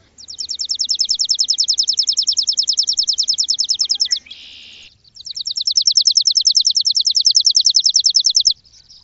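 Sparrows chirp in a fast, even, buzzy trill that runs for several seconds. After a brief rough pause a second long trill follows, loud and close with no other sound.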